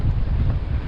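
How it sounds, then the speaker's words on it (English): Wind of about 10 to 15 knots rushes over a sailboat on open water, a loud, steady roar buffeting close against the microphone in a brief burst. "We've got about somewhere between 10 and 15 knots of wind"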